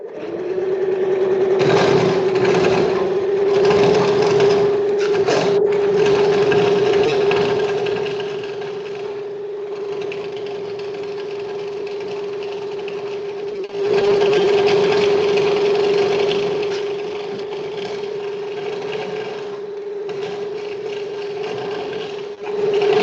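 A lateral reinstatement cutting machine, worked by foot pedal, grinds through a pipe connection during point repair work. A steady loud motor whine holds a constant tone throughout, with surges and slight dips in load and no talk.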